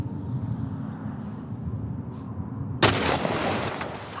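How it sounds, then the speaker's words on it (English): A single sharp gunshot cracks out in The Last of Us Part 1, bursting suddenly from a low, murky in-game ambience and leaving a brief ringing tail. "I shot him in the neck"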